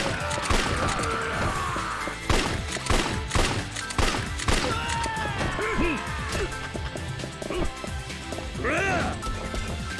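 Gunfire from handguns in the video game Yakuza 3, repeated sharp shots and crashes scattered through a busy action scene, with game effects and voices underneath.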